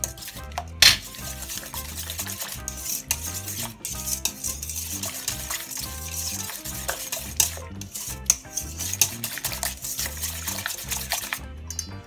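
Banana bread batter with egg being mixed in a bowl, making rhythmic, repeated close scraping and stirring strokes with light clinks of utensil against the bowl and no voices.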